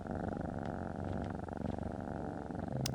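A cat purrs steadily and close up, a continuous low rumble with no talking over it.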